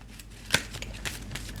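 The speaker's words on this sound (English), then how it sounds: "Let me just shuffle a little bit more because I want one card only, please, universe." A deck of oracle cards is shuffled by hand, giving soft papery riffles and one sharper flick, close and quiet, with no speech.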